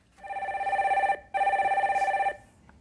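A telephone rings in two long, buzzing bursts with a short gap between them, loud and close with no voices, as a caller is put through on a live call-in show about stocks.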